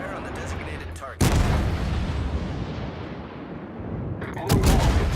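Heavy naval artillery fire in a warship video game: two loud booming salvos several seconds apart, each with a long rumbling roll that decays between them, no talking heard.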